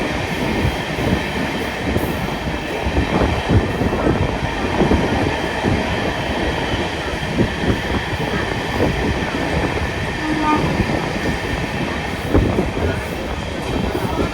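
A Gurudev Express train made up of brand-new LHB coaches runs at speed on its way toward Ernakulam via Kottayam. A loud, steady rumble and rattle with rhythmic wheel clatter fills the interior without pause.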